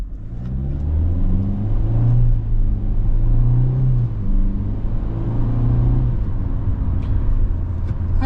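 A 2024 Hyundai Venue SEL engine hums steadily as the car shifts in manual mode, with a low, continuous drone that rises and settles slightly and no one speaking.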